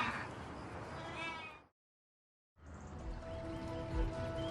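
Sheep and lambs bleat on a farm during lambing season, several wavering calls near and moderately loud, broken by a short silent gap before more bleating resumes.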